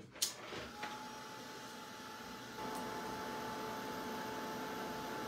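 A hair dryer blowing on water-based paint makes a steady, even airflow hum after a couple of brief knocks at the start, getting slightly louder partway through.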